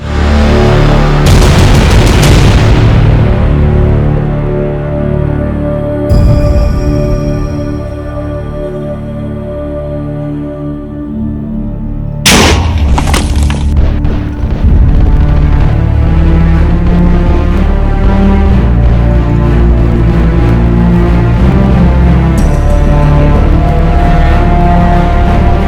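Cannons firing and exploding in a block-mining video game, loud repeated booms and blasts rolling over a dense, continuous barrage, with a sharp burst about midway.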